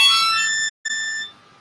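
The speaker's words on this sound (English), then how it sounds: "Sounds like this when you blow in it." A Hohner harmonica in the key of A is blown into, giving a bright, buzzy reed chord held for a moment, a brief gap, then a second steady blown chord that fades out.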